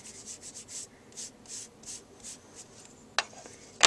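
Short rhythmic rubbing strokes of a peeled paint Distress Crayon on paper, a dozen soft scrubbing passes in a steady pattern, followed by two sharp close clicks at the end.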